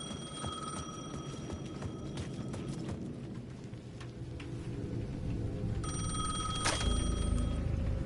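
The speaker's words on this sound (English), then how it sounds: "The payphone at the edge of the plaza was ringing again." A phone rings repeatedly with a bright, buzzy electronic tone, over a steady low background drone that swells slightly toward the end.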